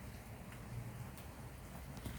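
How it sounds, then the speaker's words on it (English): Steady rain falling outside near a house porch, a continuous soft hiss with scattered pattering drops and a low rumble underneath, quiet and unbroken throughout. "the sound of the rain"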